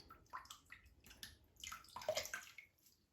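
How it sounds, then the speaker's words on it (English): Water splashes and runs over the head of a Simpson T3 synthetic shaving brush, a few quick irregular splashes and trickles, close and moderately quiet, with no voices. "Just throw a little bit of water on the head there."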